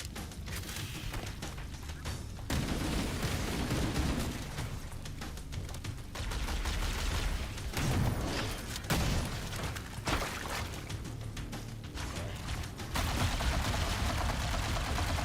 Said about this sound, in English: Oh, that's a shotgun.